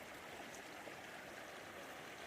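Flint Creek flowing steadily, a continuous broadband rush of moving water close by, even and unbroken throughout with no voices.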